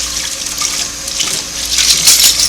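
Cool running water from a tap splashes steadily over Singer sewing machine foot pedal parts, rinsing off Krud Kutter cleaner, a close, continuous hiss that grows slightly louder toward the end.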